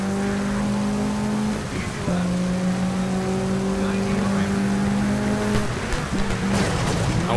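A rally car in the Sega Rally video game brakes hard and skids, its engine droning loudly and steadily throughout while tires scrub and slide against the surface.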